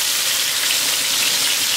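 Pork chops sizzle in hot coconut oil, a steady dense hiss of searing meat with no gaps, fairly loud and close, no voices.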